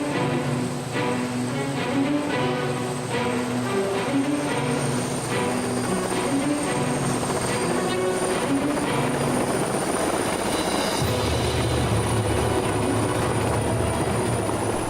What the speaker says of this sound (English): Ben Bacal, a helicopter tour of what San Diego has to offer in the luxury real estate market from the sky